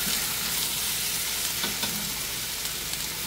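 Chicken wings frying in a pot as the base for tinola give off a steady, close sizzle with a few soft pops and stirring scrapes, continuous throughout with no talking.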